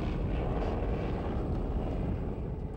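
A restored Fokker D7, a German First World War biplane, drones steadily in flight, its engine and propeller giving a continuous broadband roar with no gaps, fairly close and loud throughout.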